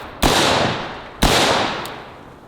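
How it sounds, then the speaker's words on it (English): Two loud, sharp rifle reports from a 5.56 AR-15 fired at household appliances, about a second apart, each cracking hard and ringing out into a decaying echo, with a faint click after the second. "Let's go ahead and try the AR-15."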